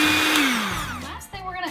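An electric mixer whirs loudly while blending two eggs into homemade brownie batter, its pitch sliding downward as it slows, then a short clatter and a brief restart.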